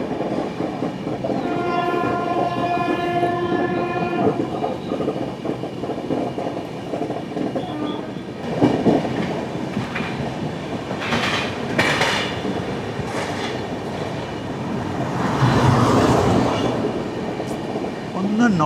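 The 16334 Trivandrum Veraval Express rolls along with a steady rumble and rail clatter, a long horn sounding early on, then continuing wheel noise with scattered clacks and squeals.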